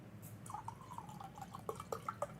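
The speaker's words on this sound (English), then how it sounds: "Pardon me while I refresh my water" Water trickles and drips into a drinking glass as it is refilled, a faint, short run of bubbly pouring that quickens into brighter drops near the end.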